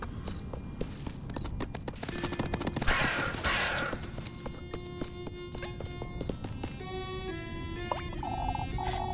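Crow cawing in a video game, several harsh calls standing out from busy game ambience with footsteps and clattering effects, steady at moderate level.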